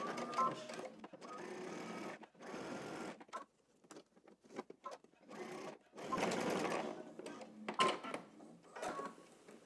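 A domestic sewing machine stitches pleated pants in bursts of rapid mechanical whirring, stopping and starting several times with short pauses between runs, close and fairly quiet.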